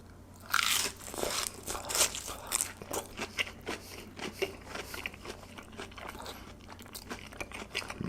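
Close crunchy bites and chewing of spicy, saucy cheese tonkatsu, with repeated crisp crunches settling into steady, moist chewing that continues throughout without talk.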